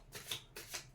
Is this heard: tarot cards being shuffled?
yes